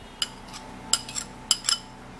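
A utensil clinks and scrapes against a container while a mixture is stirred for a hair-removal preparation, producing a few sharp, bright taps spaced unevenly over a quiet background with no talking.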